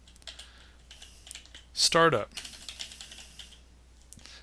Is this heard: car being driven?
no